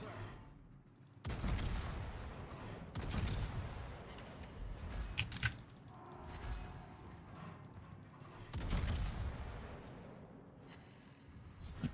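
Naval gunfire in World of Warships booms in several deep, rumbling salvos, loud and close, each rolling out before the next one lands.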